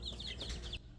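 Chickens clucking in a springtime backyard flock, a short burst of repeated nasal clucks up close, alone with no talk.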